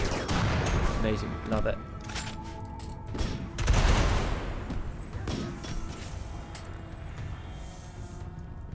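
Colonists' gunfire in a Rimworld battle on an ice sheet against a security force, with repeated bursts and thumping impacts throughout and a louder barrage near the middle, while a voice speaks briefly over the shooting.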